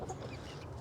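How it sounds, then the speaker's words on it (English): Backyard chickens clucking softly and steadily at close range, a low murmuring flock sound with no voices over it. "When you have chicken in your backyard"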